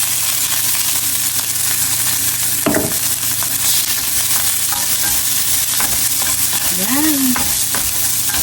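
Food fries in a pan with chili peppers, a dense steady sizzle throughout while a utensil stirs and scrapes, and a brief spoken word is heard over it.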